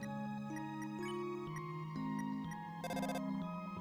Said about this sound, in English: Notice you received a text from Toriel.